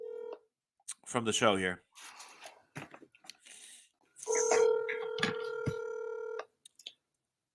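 A telephone dialing sequence sounds as tones for a call, a clear electronic chord held for about two seconds, with brief short beeps and a voice speaking before it.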